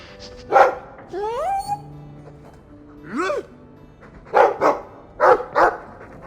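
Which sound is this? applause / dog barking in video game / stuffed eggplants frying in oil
dog barking in video game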